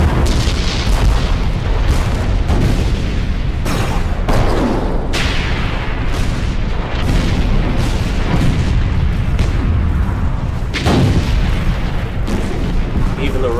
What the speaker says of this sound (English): Day after day after day, Grant's artillery tries to pound Vicksburg into submission.